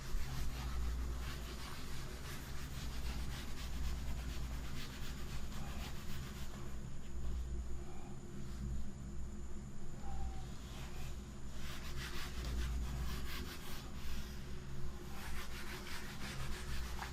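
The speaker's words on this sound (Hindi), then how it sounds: "एक बार रब कर देते हैं ताकि कुछ स्पेस हो जाए बोर्ड पे।" Steady scratchy rubbing of an eraser wiping a classroom board clean, continuous and moderately loud for the whole stretch with a constant low hum underneath.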